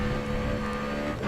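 A race car in a GRID Autosport career race roars at steady high revs while overtaking into fourth place, with a constant dense engine drone and faint tyre noise, with no talk.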